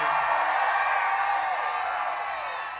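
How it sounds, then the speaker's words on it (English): Large outdoor rally crowd in Carson City, Nevada, for Donald Trump, cheering and whooping in a steady roar that fades slightly toward the end. "What a crowd, what a crowd."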